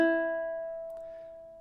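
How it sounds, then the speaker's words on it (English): A single open E string plucked on a ukulele, ringing out alone and slowly decaying with a clear, close tone. "and then open on the E."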